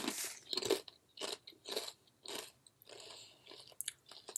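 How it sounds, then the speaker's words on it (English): Someone munches crunchy chips up close, a series of sharp crisp bites and chewing crunches in an uneven rhythm, quiet and alone with no talking. "I love how he didn't even look up like when I started munching on the chips"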